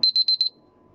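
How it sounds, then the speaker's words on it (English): A kitchen timer beeps while baking: a shrill electronic tone pulsing about five times in rapid succession, loud and close, then stopping into quiet. "stop this timer"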